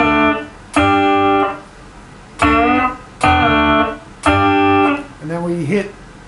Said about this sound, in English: we're going to take the 3rd string at the 2nd fret and we're going to bend that up and strike it